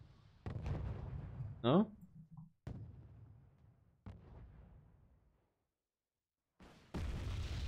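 M110 artillery guns in a tournament video game fire several deep booms spaced a few seconds apart, each with a sharp onset and a fading rumble, while a commentator talks quietly between them.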